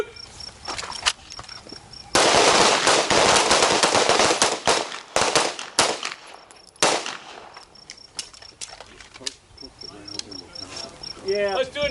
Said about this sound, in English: Shoot! Focus. Three rounds.